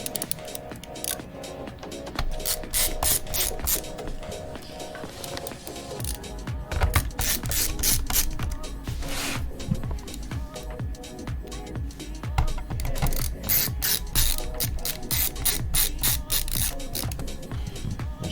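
Screwdriver putting screws back into an HP 17t-cn000 laptop during reassembly, producing rapid continuous ratcheting clicks and light scraping with a few louder knocks, close and steady throughout.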